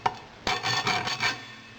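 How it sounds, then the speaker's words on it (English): A hand file rasping across a cast metal house number made from a melted disc brake rotor, with a short scrape followed by a few firm, rhythmic strokes, close and loud. "We'll give it a file and we'll see what happens."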